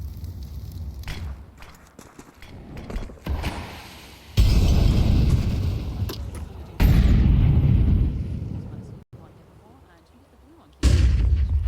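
Grenade blasts in a CS2 match during a pro esports broadcast, heard as several loud booming explosions separated by quieter stretches of game noise and commentary.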